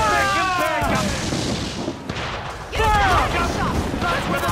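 Ship cannons and mortars fire in a naval battle in Assassin's Creed Black Flag, loud booming blasts in two bursts with a lull between, heavy crackling rumble over shouted orders from the crew.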